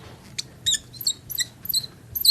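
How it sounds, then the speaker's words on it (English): A very squeaky marker writing on a board during a physics lesson, producing a series of short, high-pitched squeals in quick irregular strokes, fairly close with a quiet room behind. "It's a very squeaky marker."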